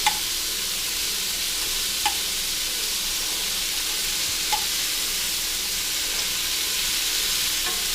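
Lamb chops frying in a hot pan: a steady, dense sizzle and hiss throughout, close and loud, with a few faint clicks of the pan.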